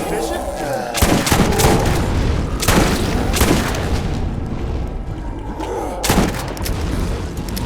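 Axton's turret in the video game Carnage Commando firing repeatedly: loud, close gunshot bursts land at uneven intervals over a constant roar of battle noise, with sharp booming impacts throughout.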